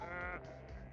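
Sheep bleat in the business sim game Capitalism Lab, a quiet, short wavering baa followed by a softer second call.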